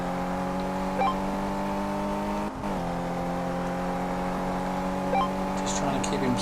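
A Maserati engine drones steadily in Car Mechanic 2015, a continuous humming rev that briefly dips as the gear changes, then picks back up, with someone talking over it.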